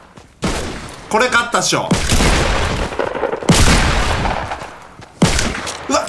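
Shotgun blasts in the video game Fortnite, several loud booming shots spaced a couple of seconds apart, close and punchy, with someone talking excitedly between them.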